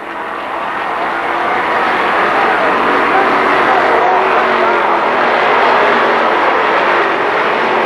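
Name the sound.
stock cars racing at Kil Kare Speedway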